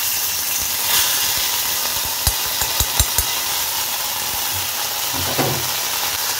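Whole cumin and ginger paste fry in oil in a pan over low gas, a steady close hiss and sizzle with a few sharp taps of a utensil against the pan, and no talking.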